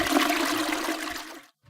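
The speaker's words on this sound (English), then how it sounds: "The toilet flush again." A toilet flushes with a loud, close rush of water that holds steady for more than a second, then cuts off abruptly into silence.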